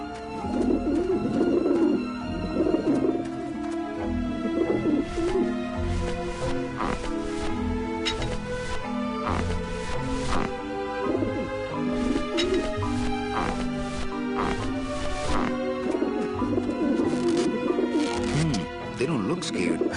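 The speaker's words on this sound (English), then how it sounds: "Ah, the pigeons obviously like this dish vent." In the remastered Grim Fandango, pigeons gathered at a dish vent coo again and again over a constant game music bed, staying moderately loud throughout, with a voice talking over them at times.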